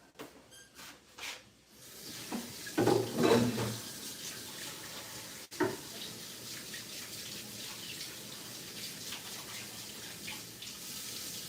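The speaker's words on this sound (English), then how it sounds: "Let me wash my hands." Hands are washed under a running tap at a kitchen sink, the water gushing and splashing close by, louder in the first few seconds and then settling into a steady flow.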